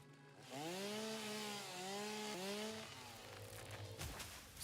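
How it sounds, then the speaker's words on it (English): A chainsaw in the video game Satisfactory revving and cutting, its engine pitch rising and dipping in a few surges before winding down, loud and close. "I still got the chainsaw on me"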